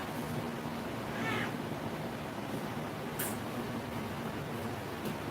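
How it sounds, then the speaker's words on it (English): A cat meows once, briefly and fairly faint, over a steady background hiss in a quiet room, with a small click afterward and no talking. "He brought the cat back."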